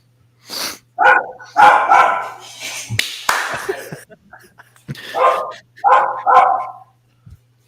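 A pet dog barks in a few short yips and bow-wows close by, scattered between bursts of talk from a person in the room.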